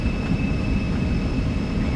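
Airliner engines during a derated takeoff in the X-Plane 12 flight simulator, a steady loud broadband roar with a thin high whine, continuous and unchanging, no talk.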